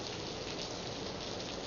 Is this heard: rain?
yes